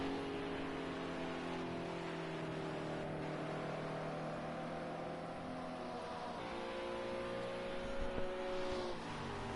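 GT3 race cars, an Azura car and a BMW, battle at Le Mans with a continuous droning engine note that holds steady and slowly shifts in pitch as they run close together, loud and without talk.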